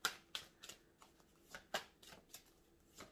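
Cards handled one after another from a deck of oracle cards, giving soft papery flicks and slaps in an irregular rhythm, close and quiet, with no talking.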